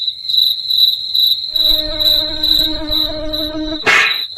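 Mosquito whining near the ear, a steady high-pitched buzz running throughout, joined midway by a lower droning hum and ending in a short burst of noise.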